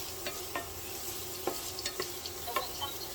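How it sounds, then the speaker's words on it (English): Onions sautéing in olive oil in a skillet over medium heat, with a steady sizzle and crackle broken by several sharp scraping stirs, close up with no talking. "We're sauteing onions."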